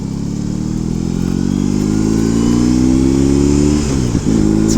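A motorcycle engine drones loud and close while being ridden on a chilly Florida road, its pitch climbing steadily through the gears before a brief dip near the end, with constant wind and road rush throughout.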